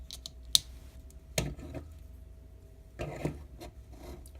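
Small plastic model kit pieces of a Minipla Jackpot Striker being handled, with a few sparse, quiet clicks and taps as a red peg is flipped up, close and alone.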